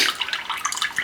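Water drains out of a Jegs 40 amp plasma cutter, a brisk steady splashing trickle, close and continuous, with nothing else heard.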